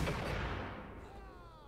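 Gunfire from the Max Payne video game, a loud burst that opens the clip and fades into a lingering reverberant tail with no talk over it.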